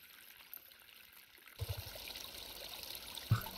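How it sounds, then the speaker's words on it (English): Running water gushing and trickling across a room in House Flipper, steady and fairly faint, swelling louder partway through with a brief splash near the end. "Why on earth we can't turn the water off somewhere, I don't know."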